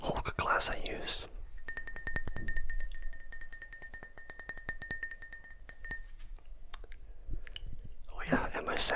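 A Hulk drinking glass is handled close up, giving a steady run of light glassy clinks and taps with bright ringing tones that last several seconds, framed by whispering before and after.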